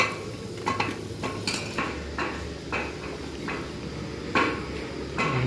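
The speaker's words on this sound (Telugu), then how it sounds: "వంట అయితే నడిచింది మా దగ్గర." Pots, pans and metal utensils clink and scrape during cooking at a roadside stop in a school on a trip to the Maha Kumbh Mela, with scattered sharp knocks over a steady low background hum.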